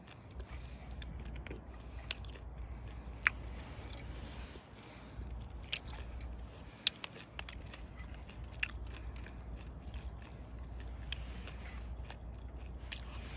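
Dried octopus being chewed, close and quiet, with steady moist mastication broken by sharp crunchy bites and crackles scattered through the stretch, no talking.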